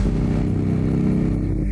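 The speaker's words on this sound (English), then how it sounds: "I gotta have this motorcycle." Suzuki Katana 750 motorcycle engine revving hard and loud up close, a steady throaty roar with a rough pulsing growl and no gaps, no voices.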